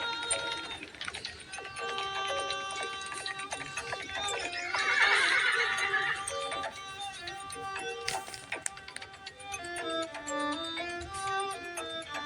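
Horse neighing and hooves clip-clopping in a sound effect for a ride to Agra by Shivaji and his young son Sambhaji, a whinny rising mid-way over rhythmic hoofbeats and a musical backdrop, no talk.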